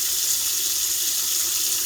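Steady broadband rush of water running in a portable mini washing machine, continuous and fairly loud with no pauses and no talking.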